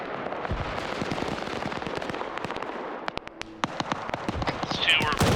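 Rapid bursts of cannon fire from a ZU-23 Zeus anti-aircraft gun in a military video game, a dense rattling barrage followed by sparser, sharp individual shots, with radio-style voices underneath.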